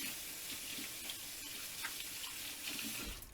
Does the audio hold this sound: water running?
yes